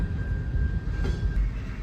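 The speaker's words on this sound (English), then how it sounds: "the train is still going." A freight train rolls past a road crossing in Mississippi as a steady, close, low rumble. A thin, faint metallic tone rides on top, and no one speaks.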